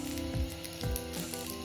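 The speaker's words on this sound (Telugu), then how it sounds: "లో ఫ్లేమ్లో నెమ్మదిగా దీన్ని కాల్చుకోవాలి." A folded Maggi masala vegetable omelette frying slowly in a pan over a low flame, giving a steady, soft, continuous sizzle with a few faint low clinks.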